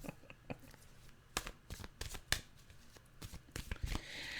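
Tarot cards being shuffled by hand, a close run of rapid riffling and soft slapping bursts with brief pauses between, and no talk.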